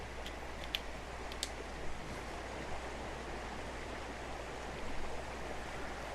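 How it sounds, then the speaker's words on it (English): Steady broadband rush of falling water and a stream pouring into a pool beneath waterfalls in ARK: Survival Evolved on the Lost Island map, continuous and even throughout with a few faint ticks, no voices. "it's right in a pool of water underneath some waterfalls"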